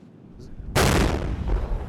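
Artillery fire on the Ukrainian front line: a sudden loud, broad blast that rolls on with sustained rumble and a second swell, after a quieter stretch.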